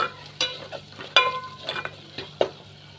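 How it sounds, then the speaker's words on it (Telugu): Tomatoes with salt are stirred in a hot pan while cooking down for a fish-egg fry, with several sharp scraping clatters of a spoon against the pan over a soft background sizzle and no talking. "బాగా కలుపుకొని బాగా మగ్గబెట్టుకోండి టమాటాని."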